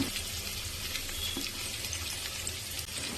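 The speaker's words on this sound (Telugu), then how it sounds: "ఇవి కొంచెం వేగే వరకు అలాగే పెట్టేసుకున్నాను, వేగుతూ ఉన్నాయి" Onions, carrots and other vegetables sizzle steadily in a hot pan, a continuous hiss of frying without any talk.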